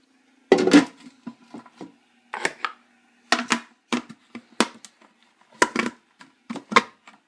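A lid is set onto a popcorn popper with a series of light, close knocks and clicks, spaced irregularly over several seconds in an otherwise quiet kitchen.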